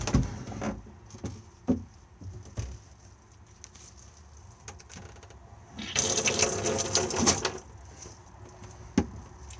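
Water drains from a pull-down washroom basin in an Auto-Sleeper Symbol motorhome, a burst of rushing gurgle lasting a couple of seconds amid faint clicks and taps.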